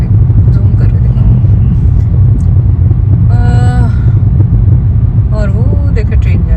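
Blocked highway traffic in Toronto gives a loud, constant low rumble of idling and creeping cars, with a voice talking over it and a brief tonal whine midway.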